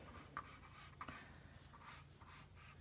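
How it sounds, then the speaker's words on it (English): Pencil sketching on paper while drawing a figure to proportion, a soft continuous scratchy graphite rub with faint quick stroke accents, close and quiet with no voices. "Let me sketch that in."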